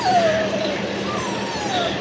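Puppies whimper close by in thin, high, wavering cries over a soft indoor background, a couple of drawn-out whines in quick succession with no talking.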